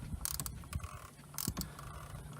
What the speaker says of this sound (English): You start turning it, you can hear the O-ring in there.